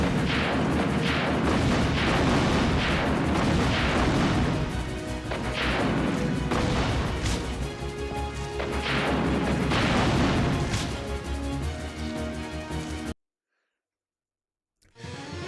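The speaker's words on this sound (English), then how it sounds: "I can't tell you right now because of exploding roaches with a rocket launcher" Rocket launcher blasts from the game Resident Evil Survivor 2 – Code: Veronica land as a rapid run of heavy, loud explosions and crashes for about thirteen seconds, then cut to near silence.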